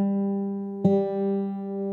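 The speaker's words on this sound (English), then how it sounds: "Now we're going to play the D string at the fifth fret" An acoustic guitar's D string fretted at the fifth fret, slightly sharp, rings as a clear sustained note, then is plucked again near the middle and left to ring on, alone and close.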